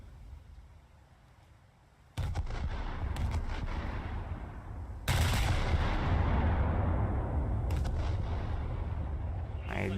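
Heavy naval guns of the battleship Fuso firing high-explosive shells in the War Thunder naval battle game. Two loud, booming salvos come a few seconds apart, each followed by a sustained rumbling roar that stays loud.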